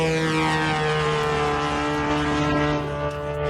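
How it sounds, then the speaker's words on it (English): An attack drone drones overhead with a steady, loud buzzing whine of stacked engine tones, slight pitch drift, no voices. "that's definitely a drone"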